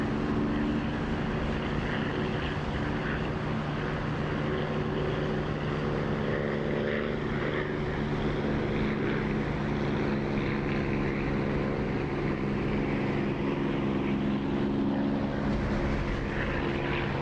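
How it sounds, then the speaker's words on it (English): A Supermarine Spitfire's piston engine drones steadily from the cockpit with the canopy open in the DCS flight simulator, a loud continuous propeller roar with rushing wind and no speech. "I do love the sound of this spit with the canopy open"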